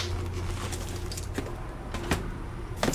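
Birds calling outdoors in a front yard by a garage, faint chirps and coos scattered over a steady low background rumble.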